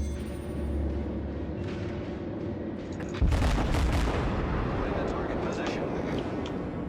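Heavy naval gunfire rolls through a World of Warships battle as a battleship fires, a deep steady rumble building to a loud booming blast about midway, with sustained crackling after it and a voice talking over it.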